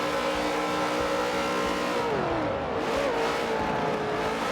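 Race car engines in a Watkins Glen racing video game drone steadily at close range, pitch sliding down and back up through a chicane as speed is scrubbed and regained.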